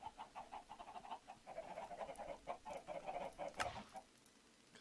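Chickens cluck repeatedly in a Minecraft game running the Better Than Wolves mod, a steady stream of quiet, close clucks with a louder squawk near the end before it fades, no talk.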